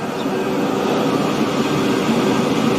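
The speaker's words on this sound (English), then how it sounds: "Oh no, there is a train." A train rolls past in the railway game Transport Fever 2, a steady, dense rumble with a continuous hum that holds at the same loudness throughout, with no clear clacks or horn.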